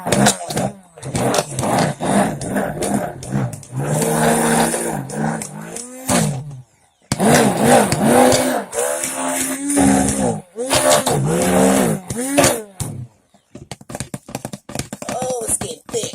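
A stick blender churning thick cold-process liquid soap paste, a loud whirring motor that starts and stops in several bursts, its pitch sagging under the load, with a voice speaking between the runs.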